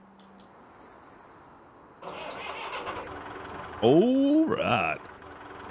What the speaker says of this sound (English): Let's fire this thing up.